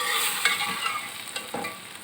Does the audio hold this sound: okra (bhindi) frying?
yes